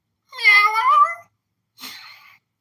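A person imitates a cat's meow, with one long drawn-out call followed by a shorter, breathier second meow, close and clear against silence.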